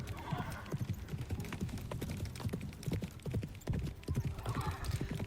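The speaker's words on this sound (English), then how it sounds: "leaving only the rapid hoofbeats and my anxious heartbeat to fill the silence" Rapid galloping horse hoofbeats from the video game Love and Deepspace, a steady, close clip-clop rhythm driving continuously throughout, with faint whinny-like tones rising briefly at the start and end.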